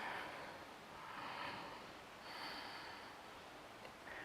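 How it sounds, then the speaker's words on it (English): Slow, deep breaths drawn in and let out during a Kundalini yoga meditation, two or three long airy inhales and exhales, soft and close, with no talking. "A couple of deep inhales and exhales."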